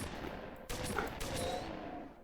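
Shotgun blasts in a modded Doom game, a couple of heavy booming reports over a dense, noisy wash of game sound, loud and with no voice over them.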